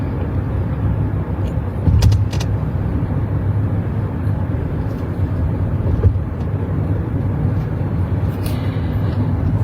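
Steady road traffic heard from inside a car driving into Florianópolis, a constant low engine and tyre rumble with a couple of brief louder bumps, no voices.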